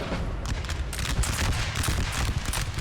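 Massed musket volleys in Napoleon Total War crackle continuously, dense overlapping shots forming a loud, rolling fusillade of battle noise with no pause.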